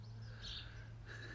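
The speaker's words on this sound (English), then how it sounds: "Look when she does her little chirps when you ask her if she's alright." A little pet chicken named Gravy gives soft, brief high chirps, two faint calls close by over a steady low background hum.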